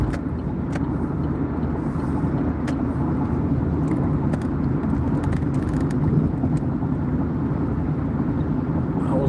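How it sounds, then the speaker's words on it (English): Dense, steady road traffic rumble with a continuous low-pitched drone of passing cars, constant in level throughout with no talking. "I was like, yo, what's up with all this traffic?"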